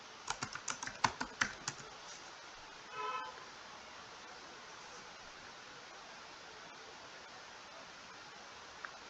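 A short burst of quick keystrokes on a computer keyboard while entering a query, about a dozen taps over two seconds, then a faint brief rattle and near silence.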